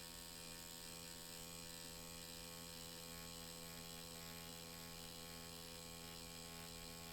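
A tattoo machine buzzes steadily as the needle works on skin, a continuous mechanical whine with a rapid, even pulse that stays faint and unchanging throughout.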